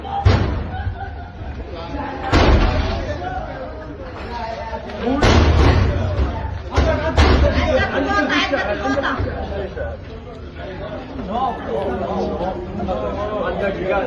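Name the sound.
man smashing metal door with a stone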